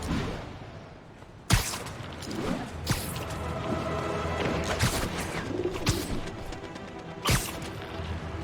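Pigeons coo in Marvel's Spider-Man, soft repeated calls set against a busy game soundscape with several sharp crashes and impacts cutting through.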